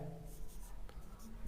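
A pen scratches across a page while a Hindi math lesson is written out, short rhythmic strokes, close and soft, with a teacher speaking.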